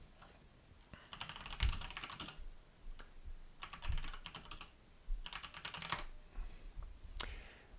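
Bursts of typing on a computer keyboard as a search is entered, with quick runs of key clicks separated by short pauses, close and clear with no talking.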